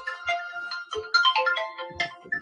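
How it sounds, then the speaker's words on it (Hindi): A phone ringtone sounds for an incoming call, a loud melodic electronic tune of bright repeating notes that plays alone for the whole stretch. "ए गोटे कॉल आस्ता फोन करू गोटे मिनिट"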